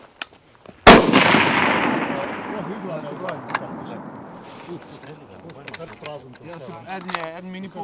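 A Mauser M48 rifle used by the Slovenian army fires one sharp, loud close shot that rings out with a long echoing decay, followed by people talking and faint clicks.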